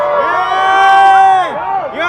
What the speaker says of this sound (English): Plenty of people hyped, people screaming, shouting and everything.